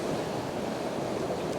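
Ocean waves break steadily against rocky ledges at North Curl Curl in Sydney before sunrise, a continuous loud roaring wash with wind buffeting the microphone and no voices.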